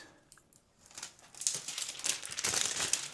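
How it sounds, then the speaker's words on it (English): Protective film peels off a laminated sticker sheet with a crinkly, crackling rip that starts faint and grows louder and steadier, close by with no talking. "we got to peel off this protective layer"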